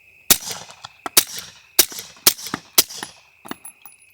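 Suppressed rifle shots from an M1A EBR chambered in 6.5 Creedmoor firing supersonic 124-grain rounds, about seven sharp cracks in an uneven rapid series, close and loud, each with a brief ringing tail outdoors.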